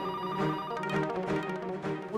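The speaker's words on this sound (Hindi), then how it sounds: "रिंग बज रही है, कोई उठा नहीं रहा है." A telephone rings on and on with a warbling electronic tone, close and steady, the call going unanswered.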